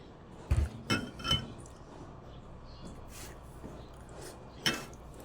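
A glass jar serving as a drinking glass clinks several times: a few sharp, bright taps near the start and one more later on. A quiet room sits around them and there is no talking.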